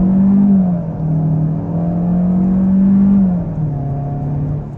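Engine of a 2023 Kia K5 EX under throttle from inside the cabin, a steady droning hum that climbs in pitch, dips at a shift, then rises again, loud and continuous with no talk.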